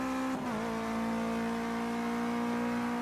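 Race car engine in Project Cars 2 holding a steady high-revving whine, with a brief pitch dip as it shifts early on, loud and continuous throughout.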